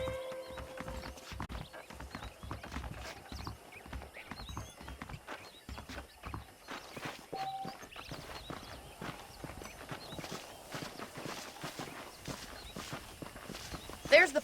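Horse hooves clip-clop steadily at a walking pace throughout a Red Dead Redemption ride, mixed with game ambience, an occasional whinny and a voice talking over the top.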